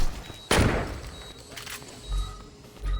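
A sudden explosion goes off inside a hospital in the video game Saints Row 2, one loud burst that fades quickly and is followed by scattered thuds and low game noise.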